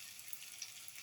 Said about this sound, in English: and let it fry